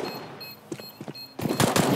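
Gunfire in Counter-Strike: Global Offensive: a few sharp isolated shots, then a dense rapid burst of automatic fire close up near the end.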